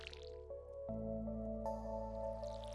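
A watering can sprinkles a crop in Stardew Valley, a soft squishy splash with a light drip, set over a steady layer of game music and ambience.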